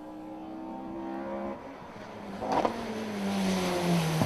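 Rally car at the West Cork Rally in Clonakilty, its engine droning with shifting tones, rising in revs and growing louder toward the end as it passes close by, heard alone without talk.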